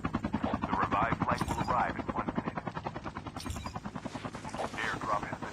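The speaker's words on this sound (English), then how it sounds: "Almost hit him with the helicopter." Helicopter in the Call of Duty: Mobile video game, a rapid rotor chop pulsing steadily under gunfire, with a commentator talking over it.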